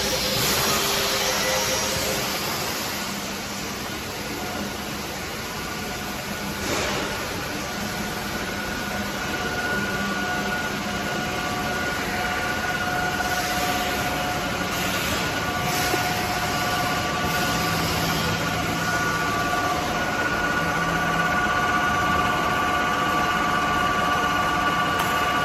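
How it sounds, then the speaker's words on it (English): Steady mechanical hum and whir fill a machining workshop at a thermoforming machine factory in Shanghai, continuous and fairly loud throughout, with faint tonal whines from machine tools and no talk. "Here is our machining workshop."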